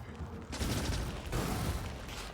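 Heavy automatic gunfire in the factory-building game Factorio: a dense, continuous roar of rapid shots that begins abruptly and keeps up at a strong, even level with a brief dip midway.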